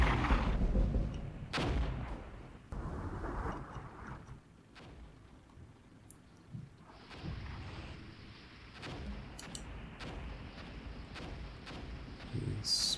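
Artillery fire in the Cold War tactics game Armored Brigade, with Soviet forces assaulting American positions: repeated heavy booms and sharp cracks at irregular intervals, some near and loud, others more distant, over a low battlefield rumble.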